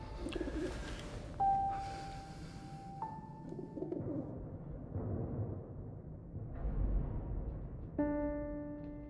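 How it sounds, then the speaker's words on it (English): An injured bird coos in the game 11-11 Memories Retold, soft repeated calls close by over a low ambient bed, with no talking. "He found a gravely injured bird, which he nurses back to health."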